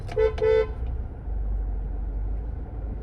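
Raipur city street traffic with two short car horn honks near the start, followed by a low steady rumble of engines and passing vehicles, loud and close.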